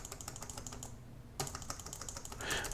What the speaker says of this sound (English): if I'm pressing the keyboard up and down